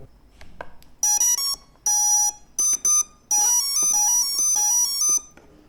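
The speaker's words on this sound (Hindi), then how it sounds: "फिर आपको इस तरीके से बीप सुनाई देगा।" A flight controller on a custom RC plane beeps after its battery is connected, giving a series of loud, bright electronic tones in short bursts and longer runs of varying pitch, with no talk.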